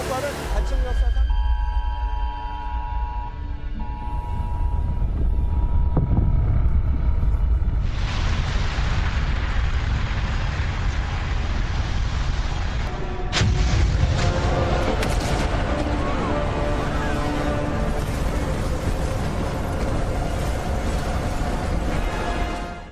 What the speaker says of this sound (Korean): 백두산 화산이 폭발했습니다